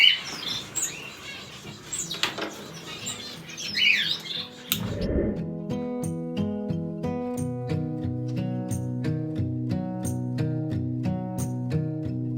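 Blue-faced parrot finches give sharp, high squawks and chirps close by, with a brief flutter. After about five seconds, tonal music takes over.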